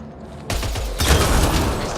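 Gunfire rips into a kett device in Mass Effect Andromeda, a quiet lead-in giving way to a loud burst of shots and then a bigger, denser blast of destruction that carries on to the end.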